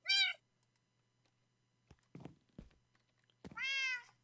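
Two clear cat meows from the Minecraft video game, one at the start and a longer one near the end, with soft thumps and clicks between them and no talking.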